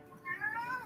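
A pet cat meows a few times up close, short rising cries over a soft room hum in a quiet home in the evening.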